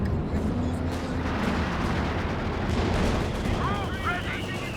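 A Brummbär assault gun fires in Company of Heroes 2, its heavy boom buried in a dense, continuous wash of battle rumble, gunfire and explosions, with a commentator talking over it.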